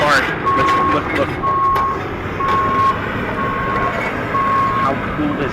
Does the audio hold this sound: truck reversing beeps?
yes